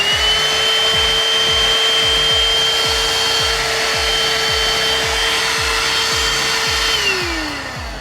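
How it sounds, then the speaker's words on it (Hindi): An AGARO cordless car vacuum cleaner runs steadily with a loud, continuous motor whine and airflow hiss, nearly constant for about seven seconds before the pitch drops as it winds down; no voices. "ये पावर बटन फ्रंट में स्लाइड करते हैं ये ऑन हो जाएगा"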